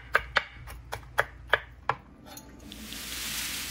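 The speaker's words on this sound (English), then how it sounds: "you can chop it some more" A knife chops okra on a cutting board for pepper soup, about seven sharp, evenly spaced thuds close up, followed by a softer scraping, shuffling noise.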